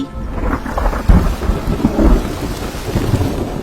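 Heavy rain pours steadily in an animated story, with deep rolls of thunder rumbling through it, loud and close, and no voices.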